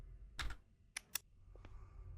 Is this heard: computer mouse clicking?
yes